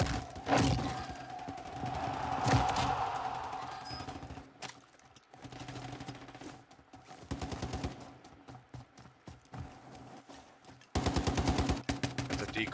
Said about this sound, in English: That's a decoy grenade.